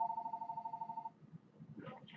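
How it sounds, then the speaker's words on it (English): A telephone rings in the background indoors, a steady electronic trill for about a second, followed by faint, muffled voices. "the phone ringing in the background"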